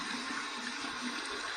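Steady running water rinses a Simpson M7 synthetic shaving brush with a butterscotch handle, a continuous even splashing hiss at close range with no speech.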